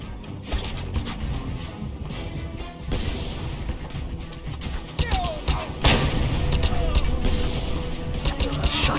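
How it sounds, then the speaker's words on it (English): Shotgun blasts come from above in a video game, with repeated sharp reports and scattered bursts over mechanical clatter and background game noise that grow denser and louder toward the end. "Shotgun from above, cheaters."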